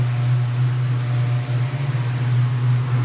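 A Black Widow direct-fired propane heater runs with a loud, steady low hum and broad airy roar, constant and close throughout.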